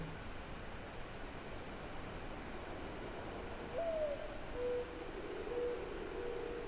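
An owl hoots in a game trailer, a few soft, spaced tonal calls drifting over a steady hiss of ambient noise, fairly faint and distant.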